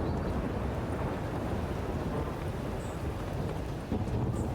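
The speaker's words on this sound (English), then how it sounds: "Why is it thundering?" Thunder in The Witcher 3: Wild Hunt, a dense, continuous low rumbling roar holding steady at moderate loudness for several seconds with no voices.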